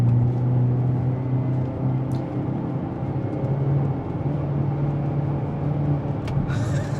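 Engine of a 2023 Hyundai Elantra N with dual-clutch transmission, cornering hard on Michelin Pilot Sport 4S tyres: a steady droning cabin hum with a brief dip around mid-corner as the gearbox upshifts, then a faint click near the end.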